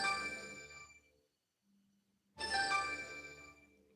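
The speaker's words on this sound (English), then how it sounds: "Somebody trying to call me." A mobile phone rings with an incoming call, bright chiming tones that sound, stop for about a second, then sound again, close and fairly loud.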